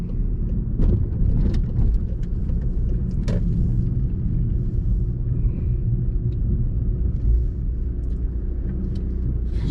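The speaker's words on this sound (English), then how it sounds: "I'm going to pull up on the left here." A car's engine rumbles low and steady from inside the cabin as it pulls up on the left side of the road, with a few faint clicks over the continuous drone.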